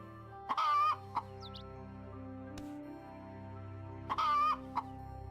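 Chicken clucking in the farming life game My Time at Portia, two short clucking calls each ending in a brief cluck, spaced a few seconds apart, close and clear over a soft humming game soundtrack.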